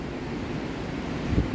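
Steady wind and surf rolling in on a beach, a broad constant roar with a slight swell near the end, no voices.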